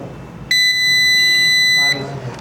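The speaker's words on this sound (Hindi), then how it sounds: "तो बजर मोड पे रखेंगे" A multimeter in buzzer mode gives one steady continuity beep while its probes touch a phone connector on a Vivo 5G board. The tone is loud, clear and high-pitched and lasts about a second and a half over low room noise.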